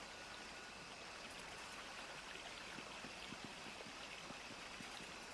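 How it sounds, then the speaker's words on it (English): Waterfall in the Neverwinter Nights module Sands of Fate, a soft continuous rushing and splashing of falling water, steady and fairly distant, with no talking. "there's a waterfall with a path behind it over here"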